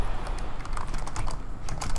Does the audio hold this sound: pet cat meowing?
no